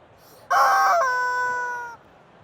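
Toy rubber chicken called Chuck lets out one loud, drawn-out squawk lasting about a second and a half, a bright, squeezed honk that fades as it ends, close up against an otherwise quiet room.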